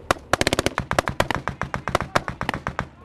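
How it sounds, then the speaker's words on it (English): Covering gunfire from Estonian forces on a ridge near a police checkpoint: a rapid, uneven string of sharp rifle shots, about two dozen cracks in bursts, moderately close, with no voices over it. "Estonian forces on the ridge by the police checkpoint are able to give us covering fire"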